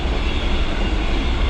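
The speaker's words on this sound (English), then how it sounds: "the train's going by here. Huge big freight train going by." Huge freight train going by, a steady, loud, broadband rumble and roar that fills the short moment without a break.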